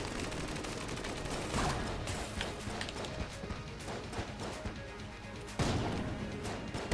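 Dense, rapid bursts of gunfire fill an Enter the Gungeon fight against the Bullet King boss, rattling continuously in busy volleys with sharp impacts and a louder burst near the end.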